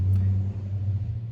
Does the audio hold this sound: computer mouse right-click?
no